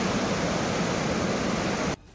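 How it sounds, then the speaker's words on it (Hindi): Floodwater from a cloudburst in the Rafiabad area of Baramulla rushing down a road, a loud, dense, continuous roar that cuts off abruptly near the end. "पानी की आवाज सुनकर ही सिरहन पैदा हो रही थी"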